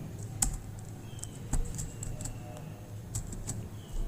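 Typing on a computer keyboard during a computer class, a few distinct key presses scattered over a low room hum, fairly quiet and with no talking.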